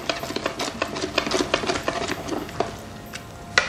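Chopped chives being stirred through a prawn and scallop risotto in a pan, with a close run of soft scraping, squelching strokes and light spoon clinks.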